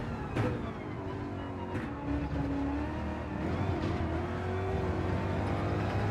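A car engine races in Gran Turismo 7, holding a steady, loud drone with rising pitch as it accelerates, a continuous close-up roar with no talking.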